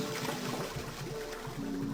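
A toilet flush pulled in the video game 9 Hours, 9 Persons, 9 Doors gives a steady rushing, gurgling wash of water that fills the whole moment at a constant, fairly loud level.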